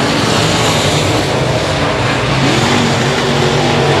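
Race cars roaring past at Cotton Bowl Speedway, a loud, dense, continuous engine howl with rising pitch sweeps as they run close by, filling the whole clip.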